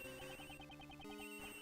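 A cell phone ringtone from the game Miles Edgeworth Investigations 2 plays a repeating melodic electronic chime, steady and clear, alone without talk.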